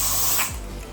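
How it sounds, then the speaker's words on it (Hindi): Hairspray hisses in one close burst onto backcombed hair, then cuts off into faint fiddling and clicks. "इसको बैक कॉम करके मैं स्प्रे करूँगी"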